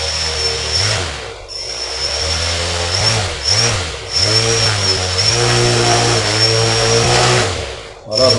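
Motors of an Arduino-controlled bicopter drone spin up for takeoff with a loud, steady whine that rises and falls in pitch as the throttle shifts, close by, with someone talking over it.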